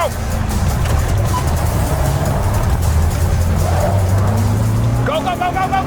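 Race car engine pulling hard through the gears, a loud steady roar with rising harmonic tones and a brief tire squeal near the end, with excited voices talking over it.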